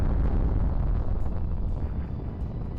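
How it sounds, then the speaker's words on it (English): A nuclear weapons test explosion in the Cold War video game Arms Race, heard as a deep, sustained rumbling roar that fills the whole moment and fades only slightly, with no voices. "It's our first nuclear weapons test"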